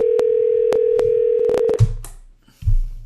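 A steady telephone tone holds alone for nearly two seconds as someone switches over the phone line, cut by a few clicks, then gives way to brief thumps and handling noise.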